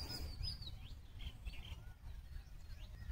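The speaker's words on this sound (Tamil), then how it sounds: "அதில் பார்த்தீங்கன்னா ஒரு குருவி இருக்கும்." A small bird, named as a sparrow, chirps in a farm field in a string of faint, high, repeated tweets over low background rumble, with no one speaking.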